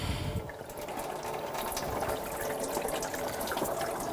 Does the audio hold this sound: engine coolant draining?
yes